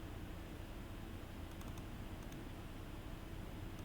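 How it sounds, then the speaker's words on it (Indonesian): Soft, fast keystrokes on a computer keyboard, a few faint clicks in quick succession over a steady background hiss, with no voices. "Padahal gue ngetik ya."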